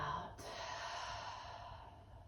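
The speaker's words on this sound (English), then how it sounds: "a clearing breath out" One deep, breathy exhale released at the close of a yoga stretching flow, a soft airy whoosh heard close and alone, trailing gently away.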